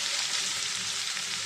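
Onions frying in a few spoonfuls of oil for a simple chicken fry, giving a steady, close, continuous sizzle with no voices.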